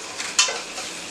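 Onions fry in a pan while being stirred. A low sizzle runs throughout, with one sharp scrape or clatter near the start and faint stirring noises after it.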